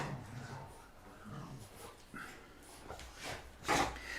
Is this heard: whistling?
no